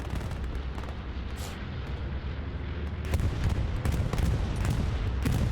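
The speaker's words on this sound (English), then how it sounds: "Rocket coming in" Rocket and artillery blasts on a Hell Let Loose battlefield, a dense rumble of booms and sharp cracks that grows heavier in the second half, loud and close with no talk.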